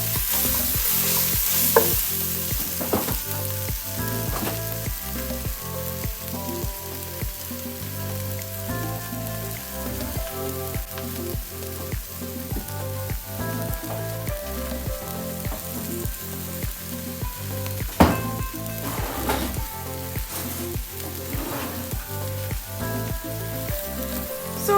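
Food browns in a pan for a fridge-cleaning clear broth soup, sizzling and frying steadily with a dense crackle and regular stirring clatters throughout, close and continuous with no voices.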